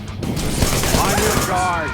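Rapid automatic gunfire and loud booming shots from the action game Wanted: Dead, dense overlapping bursts over a busy combat soundtrack with sweeping effects.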